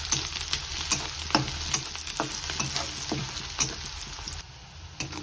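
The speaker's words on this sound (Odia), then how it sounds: "ତାକୁ ନାଲି ହେବା ପର୍ଯ୍ୟନ୍ତ ଘାଣ୍ଟିବା।" Onions sizzle in a hot pan while being stirred until reddish, a continuous frying hiss broken by regular scraping clicks of a spoon, close and steady.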